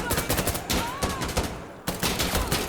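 Rapid gunfire from Insurgency: Sandstorm played in VR, dense bursts of shots cracking repeatedly in quick rhythm, loud and near, cut off briefly by a short pause before more firing.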